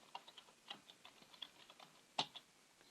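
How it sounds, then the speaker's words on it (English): Faint keystrokes tapping out a name on a computer keyboard, a quiet irregular patter of individual clicks with one sharper stroke near the end, recorded close in a quiet room. "you type in the cadet's name"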